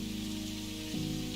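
Rain falls steadily outside a café in the game Necrobarista, a soft continuous hiss under a sustained low musical drone that shifts pitch partway through.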